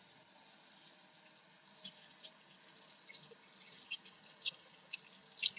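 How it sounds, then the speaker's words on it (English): Tap water runs steadily into a sink while someone washes their hands, a soft continuous hiss with small scattered drips and splashes, heard at a quiet, close range. "I'm just washing my hands right now."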